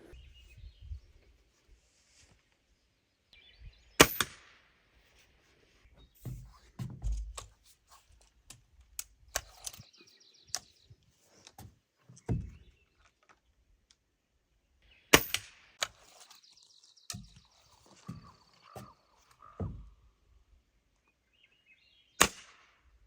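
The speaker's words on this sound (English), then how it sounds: "I did get a new pellet gun, but this 10 round pellet gun is more just for rodents" Ten-round pellet gun fired outdoors at a remote Alaska cabin, sharp snapping shots scattered irregularly with mechanical clicks and handling sounds between them, some shots louder and closer, in otherwise quiet surroundings.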